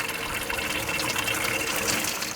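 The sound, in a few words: water flowing out of tankless water heater during flush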